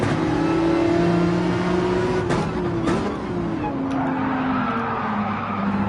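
Race car in a racing video game accelerating off a slow start with engine drone and tire skidding, two sharp transients partway through, steady and loud throughout.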